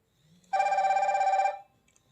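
A Fire-Boltt Infinity smartwatch rings for an incoming call: a steady, bright electronic ringtone pattern lasting about a second. It is clear and close against an otherwise quiet background.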